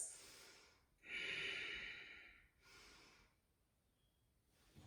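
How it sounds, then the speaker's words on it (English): Deep ujjayi breathing during a yoga flow, two slow, hissing breaths close to the microphone, the first long and strong and the second softer, separated by a quiet pause. "deep ujjayi breaths"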